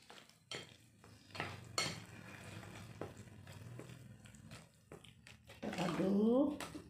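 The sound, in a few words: stirring salt and powdered broth into the cooking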